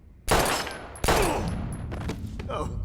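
Two loud, close gunshots ring out in Life Is Strange, the second about three-quarters of a second after the first, with long reverberating tails, and a voice speaks briefly beneath them.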